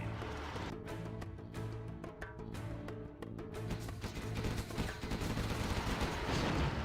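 Gatling guns in Command & Conquer Generals fire in rapid, rattling bursts amid a dense battle din, with steady low engine hum underneath and sharp repeated cracks layered throughout.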